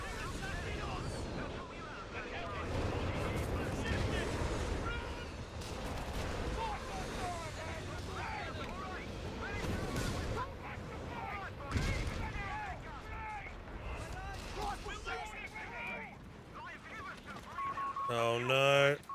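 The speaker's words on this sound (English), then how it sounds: "Second artillery piece. Let's get it going." Artillery booms and scattered gunfire run almost without pause through a Company of Heroes battle, making a dense, rumbling wash of combat noise with a few sharper blasts near the end.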